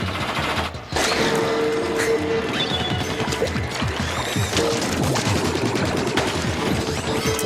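Splat bomb burst and rapid-fire shooting in the Splatoon video game, a sudden crash followed by dense, fast clattering shots and splashy impacts that keep going loudly for several seconds without talk.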